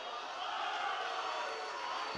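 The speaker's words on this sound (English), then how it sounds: "Get groans all over the crowd." A basketball crowd at a WPIAL girls' high school game groans at a referee call, a brief, distant wash of many voices murmuring and grumbling together across the gym.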